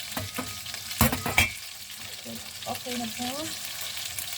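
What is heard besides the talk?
chicken frying in a pan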